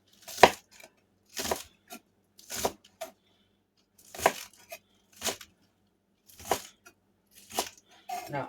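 Fresh green onions chopped with a knife on a board, about nine crisp, distinct cuts spaced roughly a second apart, close and fairly loud with quiet gaps between strokes.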